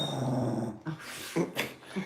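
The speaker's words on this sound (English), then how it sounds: "She's growling" A dog named Darla growling at another dog on the floor, a low rumbling growl in short bursts with breathy whimpers, close by and fairly quiet, with no voices over it.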